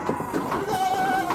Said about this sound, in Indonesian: Nah, ini banyak sekali dombanya.